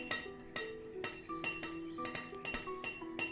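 Glassmaker workshop in the game Banished: a quick run of bright glass clinks and chimes, about a dozen sharp taps in an irregular rhythm over a quiet background, fairly faint and close.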